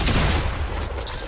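Fortnite gunfire, a rapid loud burst of shots fired back to back in a fast clattering string that thins out toward the end as the magazine runs dry.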